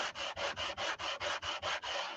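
Wooden neck of a three-string cigar box guitar being sanded in quick, even back-and-forth strokes, about nine close, rhythmic rasps.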